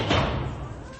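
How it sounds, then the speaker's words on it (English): A door swung shut with a single solid thud, near and fairly loud, in a 1973 British comedy scene, with a voice talking around it. "You left the key in the lock outside and closed the door behind you"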